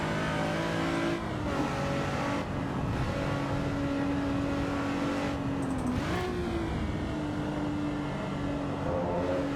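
A race car engine in Assetto Corsa EVO at Donington screams steadily at high revs, the pitch shifting as the driver changes gear and comes off the throttle, loud and continuous throughout.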